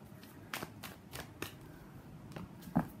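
Tarot cards shuffled by hand in a quiet room, a series of soft crisp riffling bursts spaced about every half second, close and fairly faint, with a sharper snap near the end.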